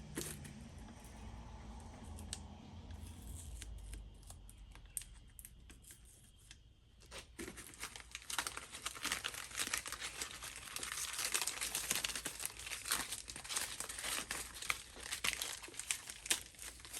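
Sticky tape is torn and handled at close range on a workbench while a 1955 Westinghouse fan is being restored. A quiet start gives way, about halfway through, to a dense run of crinkling, crackling and tearing.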